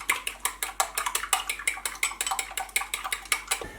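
A fork scrambles a fresh chicken egg in a bowl with a quick run of bright, close clinks and taps against the dish, steady and rhythmic without any talking.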